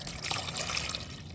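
Coolant from a Jeep Patriot radiator pouring into a bucket, a steady close liquid splash and trickle running throughout the short moment without a break.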